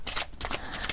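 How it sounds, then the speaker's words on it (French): Quick papery swishes and riffling from cards handled in an oracle card deck, with three short bursts in about a second. The sound is close and crisp and carries no talk. "Alors maintenant, on se prend une dernière carte, les amis."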